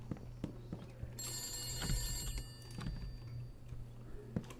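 Telephone ringing inside a video game, a bright electronic trill repeating in a steady pulse over a low hum, with scattered clicks and taps around it and no voices.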